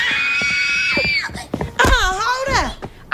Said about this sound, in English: I don't know what y'all screaming about